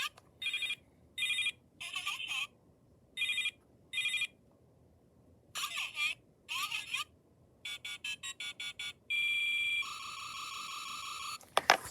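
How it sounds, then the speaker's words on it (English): Toy butterfly phones playing funny electronic sounds, a string of bright beeping ring tones and chirping melodies in short bursts with gaps, ending in a denser run of rapid tones. "these are technically butterfly phones, as they play funny sounds in their toy phones"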